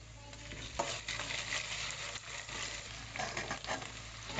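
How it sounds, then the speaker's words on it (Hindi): Chopped onion with ginger-garlic paste, turmeric and chili fries in hot oil for a dal tadka, a close continuous sizzle broken by scraping stirs of a spoon against the pan. "यहाँ पर एक प्याज लेके उसको बघार लगा के पूरा अच्छा फ्राई कर रही हूँ"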